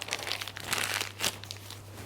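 A plastic piping bag crinkles and rustles up close while a small hole is cut into it for filling madeleine or financier molds, a steady run of crisp crackles with a sharper crunch near the end.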